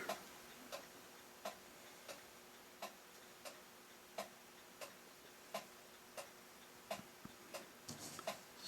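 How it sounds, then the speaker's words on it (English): A restored International time recording clock ticks steadily in the background, its faint, even beats coming about every seventh of a second apart and running throughout. "the ticking you hear in the background is my time clock"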